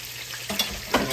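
A whole fresh perch fries in a pan, crackling and sizzling steadily, with a couple of sharper pops and clatters partway through, close up and without talk.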